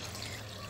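Water poured steadily over meat seasoned with bay leaves, rosemary and salt to soak, a soft continuous trickle and splash close by with no talk.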